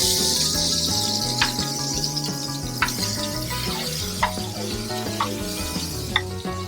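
Food sizzles steadily in hot oil in a pan, a continuous crackling hiss at close range, broken by occasional clinks of a utensil against the pan.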